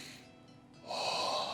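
A tabletop role-play player imitates heavy, warm breathing with the voice, a short breathy gasp-like exhalation that swells loudly near the end, close to the microphone with no words.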